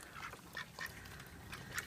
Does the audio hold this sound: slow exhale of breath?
no